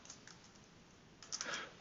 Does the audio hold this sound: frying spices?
no